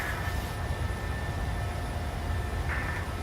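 A PMDG 737-600 climbs in Microsoft Flight Simulator with a steady, broadband jet engine roar and no voices over it.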